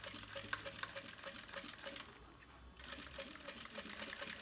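A sewing machine stitches a bag in a steady mechanical run with a regular ticking beat, pausing briefly midway before resuming at the same pace.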